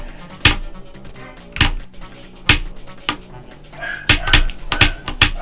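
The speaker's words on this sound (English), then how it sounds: "now my dog's barking" A dog barks in sharp, loud, separate bursts indoors, about eight barks in quick succession, over faint game music and background noise.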